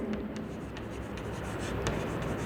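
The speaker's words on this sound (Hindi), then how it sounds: "यहां पे मैं लिख रहा हूं" Chalk or marker writing on a classroom board, with soft, close scratching strokes in quick irregular bursts over a steady room hum.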